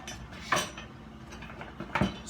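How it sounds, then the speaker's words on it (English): A kitchen knife blade wiped against the tip of a honing steel, giving two quick, separate metallic scrapes close up in a quiet room. "Just wipe your blade on the tip of the steel"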